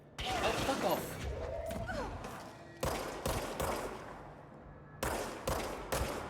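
Bursts of gunfire aimed at enemies in Control, sharp and loud, arriving in clusters with short gaps, while a person talks underneath the shots.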